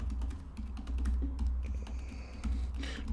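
Rapid, steady keystrokes on a computer keyboard tapping along for several seconds, fairly close and clear, with no talking.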